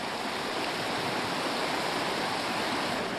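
Steady broadband rush of river water flowing continuously, close and fairly loud, with no voices or other sounds over it.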